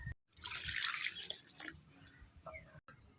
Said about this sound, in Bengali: এইটুকুনি 2 বাটি দিলাম জল